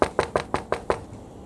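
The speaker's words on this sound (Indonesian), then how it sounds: "Ada apa kau mengetuk pintuku malam-malam, Nak?" Six sharp knocks on a door, evenly spaced and close, during a night scene in a school drama, with the last knock fading into quiet.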